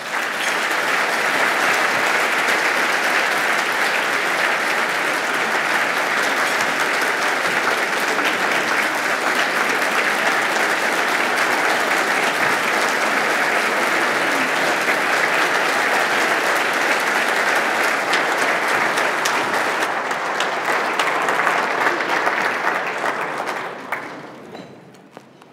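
Sustained, dense audience applause welcomes Mayor John Rowe at a State of the City event in Portsmouth, Virginia, a loud, steady wash of clapping from a large indoor crowd lasting over twenty seconds before tapering off at the end.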